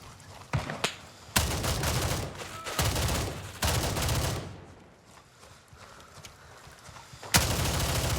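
Gunfire from the video game Gray Zone Warfare: loud bursts of automatic fire that come in several separate volleys with short gaps between them, and a few single sharp shots. There is a quieter stretch near the middle before another close burst at the end.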